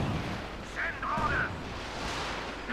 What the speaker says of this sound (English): Another barrage there to try and break up the enemy infantry assault